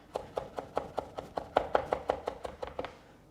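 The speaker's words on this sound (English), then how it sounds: "So I really want to chop this garlic down into tiny, tiny, tiny bits" A knife chops raw garlic on a cutting board into tiny bits, giving about fifteen steady, evenly spaced knocks at close range with no talking.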